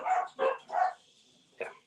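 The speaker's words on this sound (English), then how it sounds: "Someone's dogs are going off right now" Several dogs barking in three sharp, loud bursts close together, a pause, then one more bark, with no talk over them.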